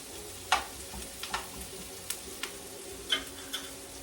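Onions frying in bacon drippings, a low, steady sizzle broken by a scattering of soft stirring clicks and small pops, close by with no voices.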